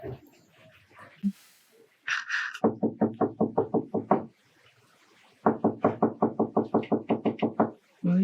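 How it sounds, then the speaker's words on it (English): Knocking on a door in a stage production of Death of a Salesman comes in two bursts of about a dozen rapid, evenly spaced raps each, loud and close, separated by a short quiet gap. "They're knocking the wrong door."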